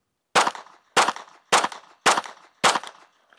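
Five sharp handgun shots fired in a fast, evenly spaced group, each a loud crack with a short decaying tail, clear and close with no talking.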